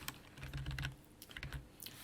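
A computer mouse clicks in a quick run of close, sharp taps, rapid and even. The taps are fairly quiet and there is no talk.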